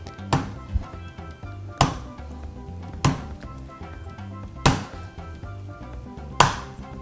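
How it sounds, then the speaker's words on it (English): The heel of a kitchen knife strikes a baby Thai coconut, probing for an opening. Five sharp, hard knocks land about every second and a half, close and distinct over a low steady background hum. "I'm going to use right here the heel of my knife, and I'm going to probe. I'm going to probe for a little opening here."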